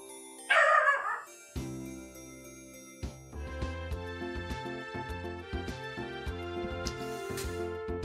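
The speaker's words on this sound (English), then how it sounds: "I cannot tell you what was setting the dog off" A dog barks once in the video game Trails in the Sky FC, a short loud bark near the start, followed by layered game music with bright chiming tones that carries on to the end.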